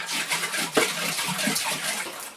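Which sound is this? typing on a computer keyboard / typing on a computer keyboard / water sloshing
water sloshing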